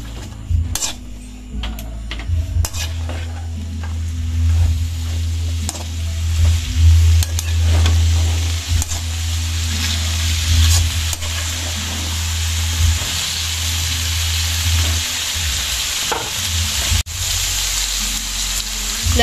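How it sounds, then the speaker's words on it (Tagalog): Pinakbet vegetables sizzle loudly in a pan while being stirred, with a continuous frying hiss, a low steady hum underneath and scattered scraping knocks of the spoon. "Atin na pong haluin."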